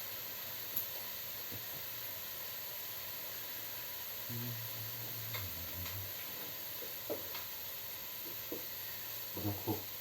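Shallot and onion frying in a stewpot for homemade bolognese, a steady soft sizzle under the room with a few faint clicks and brief low knocks of stirring, no talking.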